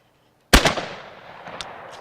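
A single sharp shotgun blast rings out at a clay target during outdoor shooting, loud and close after a moment of silence, followed by a decaying echo tail and a couple of faint clicks.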